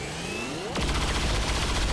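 A sniper rifle fires in XCOM 2, a rising whine ending in one sharp, loud crack that gives way to a dense, sustained roar of impact and debris.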